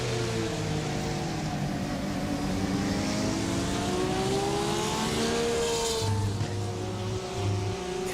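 Race cars roaring around Daytona in a sim racing game, several engines droning and shifting pitch together as they pass, loud and continuous, with a brief lower engine note near the end.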